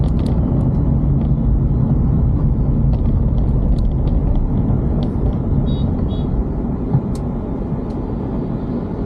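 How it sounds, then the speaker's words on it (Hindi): A Bijnor depot road bus passes close by in a market town, a loud continuous engine rumble with traffic noise and a few faint high clicks or horn chirps. "और ये जा रही है बिजनौर डिपो की गाड़ी।"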